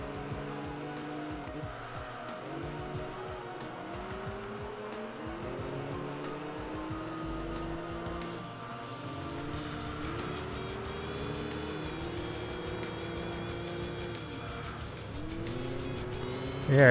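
Mercedes SLR race car engine in the Enthusia racing game on the Nordschleife, a continuous loud engine drone with repeated rising and falling gear-change sweeps, with other cars and some tire noise mixed in throughout.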